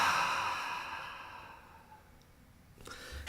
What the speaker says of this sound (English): I'm going to take a breath